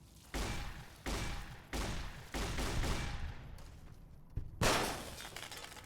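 Giant scorpions exploding in Fallout: New Vegas, a series of five sharp, loud blasts spaced about a second apart, each with a crackling, glassy decay, the last one the strongest.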